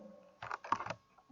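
Quick bursts of computer keyboard typing from a keyboard that is not working well, a short cluster of soft clicks that is close and faint, with a brief pause between them.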